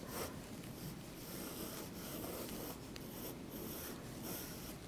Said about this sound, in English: let me go ahead and sketch out this circular shape here first